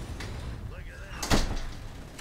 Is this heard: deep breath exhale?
no